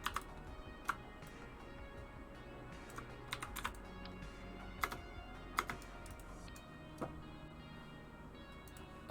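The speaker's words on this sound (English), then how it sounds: "I fat-fingered the keyboard and hit 4." Sparse, quiet clicks from a computer keyboard come in scattered single taps and short bursts against a low background hum, close and faint.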